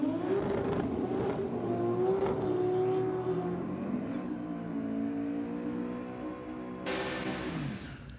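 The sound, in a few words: Holden Torana and a Ute drag racing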